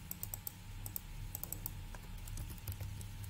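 Rapid clicking of computer keyboard typing continues for a few seconds at close range over a low background hum, with no talking.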